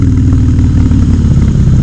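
A Harley-Davidson Softail motorcycle engine gives a loud, close, steady low rumble with a dense, throbbing pulse and no break throughout.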